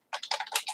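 Fingers type a quick burst of keystrokes on a computer keyboard, close and fairly loud, with no voices present.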